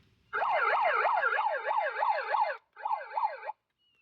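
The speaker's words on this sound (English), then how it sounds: "You hear that siren mode? That is very loud, everybody." A loud, close electronic wail from a portable megaphone speaker (240S) in siren mode, rising and falling in rapid repeating sweeps, pausing briefly before one more burst and then cutting off.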